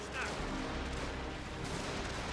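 Cannon and musket fire rolls across a Total War battle, a dense continuous rumble of booming shots blending into one another with no clear gaps, loud and close.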